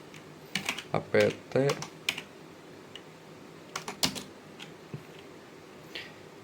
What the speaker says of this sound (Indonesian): Jika gagal seperti ini, kita ketik